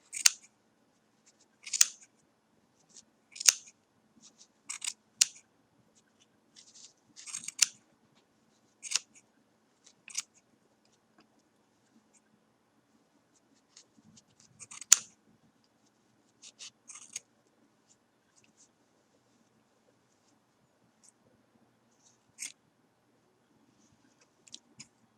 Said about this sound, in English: take your sharp scissors, slip them into these loops, and cut